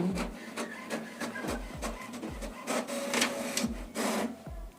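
HP Smart Tank 525 all-in-one inkjet printer printing a page, a rhythmic series of motor whirs and clicking carriage passes with low thumps, close and moderately quiet, no voices.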